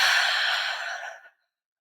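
A single long, soft exhale after a deep breath, close and breathy, gradually fading into silence.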